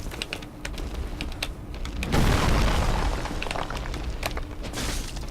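In Dark Souls 1, a fire bomb thrown by a giant lands with a loud, rumbling blast that roars on for a few seconds, following scattered sharp clicks and taps.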